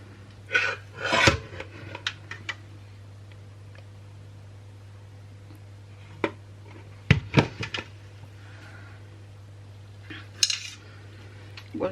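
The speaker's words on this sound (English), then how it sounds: "So just texturing with a spoon, and we'll do that on every layer." Spoon scraping and texturing a layer of cold process soap in a mould, a few scattered scratchy strokes and taps over a steady low hum, close and fairly quiet with no talking.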